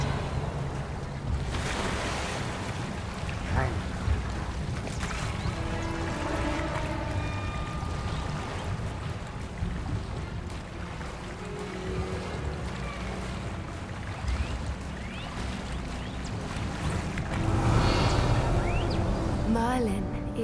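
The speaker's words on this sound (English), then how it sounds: "Look, where the water's bubbling." Water bubbling and churning in a video game lake scene, a steady watery wash with surf-like swells and a stronger surge near the end, heard under game music and speech.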